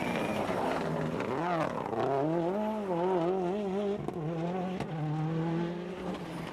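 A Toyota Corolla rally car slides tail-out on a tarmac stage, its engine note wailing and wavering through the corners over about six seconds, loud and sustained with tire scrub.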